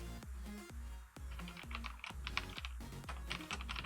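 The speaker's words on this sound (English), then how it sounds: "sorry, I'm typing too." Rapid typing on a computer keyboard during coding for a Minecraft mod, a close, busy patter of key clicks with a few heavier thumps.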